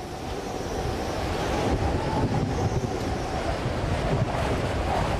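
Cyclone winds of up to 250 km/h and heavy surf battering the Australian coastline, a loud, continuous roar of wind and breaking waves with no letup.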